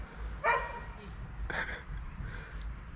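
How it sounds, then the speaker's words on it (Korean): A dog barks from some distance, in two or three short bursts with pauses between, over a low background hum. "엄청나게 짖네."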